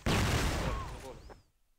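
Gunfire in the CrossFire video game during a professional esports match: a sudden dense burst of shots that fades out over about a second and a half, with voices mixed in.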